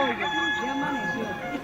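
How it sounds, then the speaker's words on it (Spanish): A rooster crows during a live Holy Week stage play of the Last Supper, arrest and trial, a rising and falling cock-a-doodle-doo carried over a sound system, with clucking mixed in. "sale del lugar y canta un gallo"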